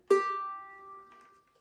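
A single pluck on the out-of-tune G string of a ukulele, tuned too low, rings clearly and alone, then decays over about a second and a half.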